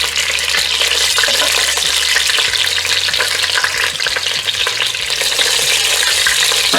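Chicken pieces sizzle and crackle steadily in hot oil in a pan, a loud, dense frying hiss that holds without a break.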